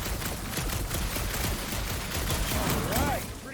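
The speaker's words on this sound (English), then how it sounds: "A couple of shots should bring it down." Rapid gunfire in the video game Guardians of the Galaxy, aimed at a gunked-up reactor unit, sounds as a dense, continuous burst under loud game music and effects, with a brief whistling swoop near the end.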